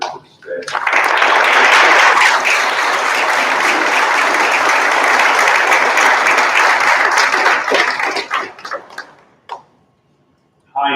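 Audience at a business symposium applauding to welcome a speaker to the stage, a dense sustained burst of clapping that swells quickly, holds for several seconds, then tapers off into scattered claps and quiet.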